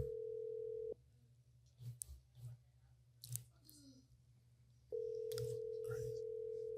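Telephone ringback tone heard while calling out, a steady held tone that stops, leaves a gap with clicks and small handling noises, then resumes.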